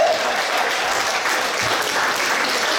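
An audience at a regional gathering of party members claps steadily, a dense, even wash of applause that carries on loud from start to finish.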